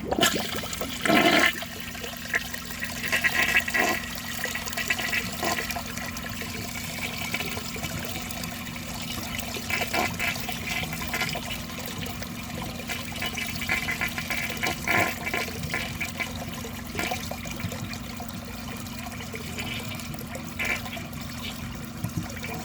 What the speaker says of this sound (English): I'm going to overfill the tank and see if that improves the flush